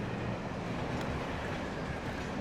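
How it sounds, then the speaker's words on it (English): A train passes in the Alan Wake video game, heard as a steady, dense rumbling roar of rolling wheels that holds at an even level throughout. "Thanks, train."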